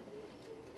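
Soft, low cooing from black Danzig high flyer pigeons in a loft, a steady murmuring hum running through the short moment with no talk over it.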